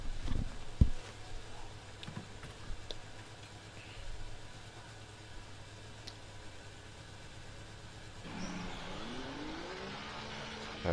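F1 car driving out of the garage onto the track in F1 24, a faint low engine hum with a brief louder rise near the end, all at a distance.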